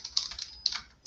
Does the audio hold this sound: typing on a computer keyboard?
yes